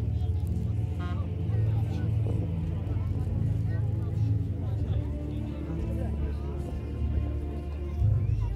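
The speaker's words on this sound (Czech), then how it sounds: "Lehký obrněný automobil vyráběný závodem KAS." A light armored car armed with a machine gun and built by KAS drives at a World War II battle reenactment, its low engine rumble steady under a voice talking over it.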